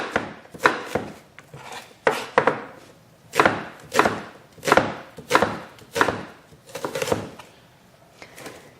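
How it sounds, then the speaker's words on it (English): A knife chops onions into quick julienne strips on a cutting board, about a dozen sharp, close knocks in an uneven rhythm with short pauses between bursts. "And just turn it that way and cut your onions just like that."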